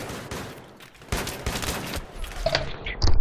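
Video-game gunfire in Battlefield 3, a burst of rapid automatic shots with sharp cracks near the end, mixed with ongoing game noise and no talk.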